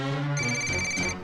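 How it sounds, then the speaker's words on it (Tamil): A phone ringtone for an incoming call plays, a short electronic tonal melody, loud and close, lasting about a second with no voices. "அப்போ அவருக்கு ஒரு ஃபோன் கால் வந்தது."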